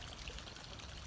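Pool water flowing steadily back from a pool heater, a continuous close pouring and trickling wash with no pauses or voices.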